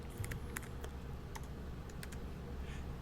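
Someone types on a computer keyboard in a quick, uneven run of close, clattering keystrokes, with a few louder taps standing out over a low background hum.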